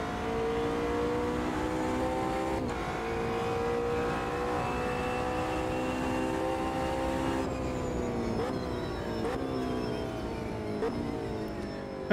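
GT3 race car engines in the video game Automobilista 2 drone and whine steadily, with gear shifts marked by pitch drops around the middle and a few quicker shifts later, heard without talk.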